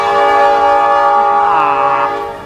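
A train sounds a loud, sustained, multi-tone horn blast close by, holding steady before bending in pitch and fading away as it passes.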